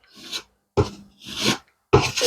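Putty being scraped along the sides of a routed slot car track on MDF, four separate rasping strokes with short pauses between them, close and fairly loud.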